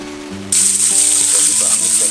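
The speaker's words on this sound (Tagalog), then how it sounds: "Ayan, mainit na ang mantika. So, ilalagay na natin isa-isa." Talakitok (trevally) fish dropped into hot cooking oil: after a quiet start, a loud, sudden, close sizzle bursts up and keeps frying steadily, crackling and hissing with no voices over it.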